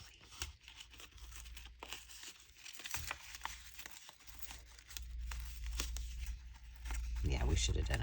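Thrifted paper ephemera is torn by hand for a junk journal, a fairly quiet, ragged rip spread over several seconds with soft crinkling and a low background rumble.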